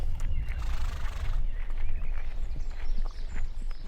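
Horses at a stable by an old mill, heard nearby with a neigh and hoof clip-clops over low outdoor ambience, the sounds coming in short bursts across a few seconds.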